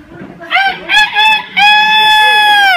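A rooster crowing loudly and close, a few short broken calls followed by one long drawn-out cock-a-doodle-doo, with faint background noise.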